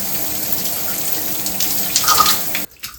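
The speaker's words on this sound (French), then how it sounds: "c'est parti pour le rinçage à l'eau froide" Cold water pours steadily from a shower onto hair being rinsed, a loud continuous splashing rush that swells briefly near the end before cutting off abruptly.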